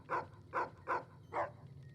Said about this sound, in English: Another happy bark.